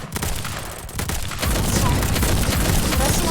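Rocket fire in the Girls' Frontline video game: a dense, continuous roar of blasts and gunfire-like bursts that grows heavier and more sustained after the first second, loud and without pauses.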